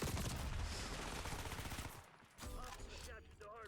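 Automatic gunfire in the shooter game Black Ops 6: a dense, loud rapid burst of shots for about two seconds, then a pause and a shorter, softer run of fire.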